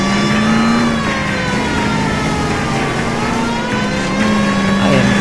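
Car engine in L.A. Noire revving loudly and continuously while driving, a droning whine whose pitch rises and falls steadily, with a siren-like wail running alongside.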